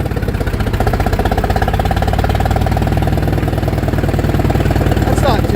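A 1959 International Harvester B275 truck engine runs steadily up close, a loud, low, even rumble with a slightly knocking beat that holds for the whole stretch.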